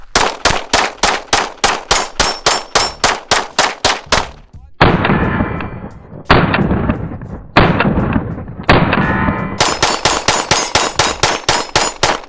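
Rapid strings of sharp pistol gunshots from a compensated Shadow Systems MR920, loud and close, with echoing reports between fast bursts of regular shots.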